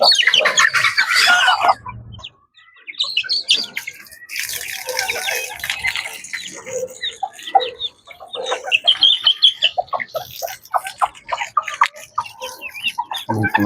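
Chickens, a rooster and small chicks cluck and chirp steadily at close range while being fed, with a brief pause, some splashing water and a few quiet voices in the background.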